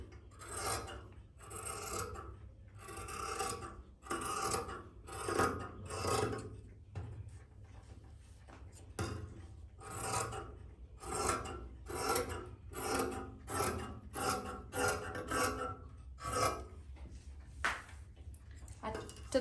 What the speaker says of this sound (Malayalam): ഇനി ആ മുകളിൽ നിന്ന് നമ്മൾക്കൊന്ന് കട്ടിങ് സ്റ്റാർട്ട് ചെയ്യാം കേട്ടോ